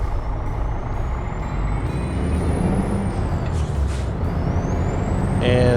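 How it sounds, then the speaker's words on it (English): A Freightliner truck in American Truck Simulator runs with a steady low engine drone while gears change through a clutch shift, with rising and falling whine tones over the rumble and a faint hiss near the end. "And that's a clutch shift."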